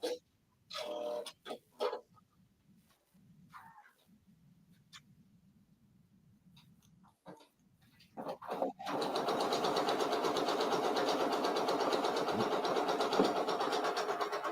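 An embroidery machine stitches brown thread details onto a patch, starting after scattered quiet clicks and then running as a steady, fast, buzzing drone at close range.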